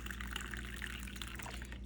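Drip coffee made from Kirkland Signature organic whole-bean Peru coffee pours steadily into a cup, a continuous close liquid trickle and splash heard alone.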